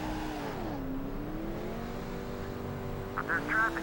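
Race car engine in a NASCAR 2005: Chase For The Cup game, droning steadily at full speed with pitch rising and falling, a brief higher whine near the end.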